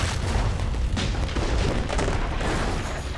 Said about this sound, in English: Let's shoot something here.